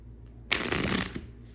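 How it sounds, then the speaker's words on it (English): A deck of playing cards is shuffled once: a quick, crisp riffle lasting under a second, close and clear in a quiet room. "I'll shuffle the deck once and show you guys that it's all shuffled"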